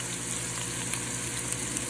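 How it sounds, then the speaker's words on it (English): Half a diced onion sizzles in plenty of hot olive oil, a steady dense crackle and hiss that runs without pause, close and loud with no voices. "I'm gonna add my diced onion, half of an onion"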